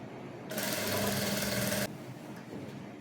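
A sewing machine stitching the built-up collar of a bubu maxi dress runs in one steady, loud burst of rapid mechanical whirring for just over a second, then stops, leaving quiet room noise.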